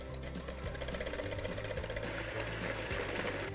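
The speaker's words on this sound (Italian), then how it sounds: "In una ciotola verso le uova, lo zucchero e comincio a montare con le fruste." An electric whisk beats eggs and sugar in a bowl with a steady, buzzing mechanical whir, continuous and fairly quiet over faint background music.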